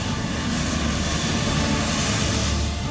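Indian Navy MiG-29K fighter jet engine: a loud, steady, broadband roar with a deep rumble beneath, holding constant throughout with no talk.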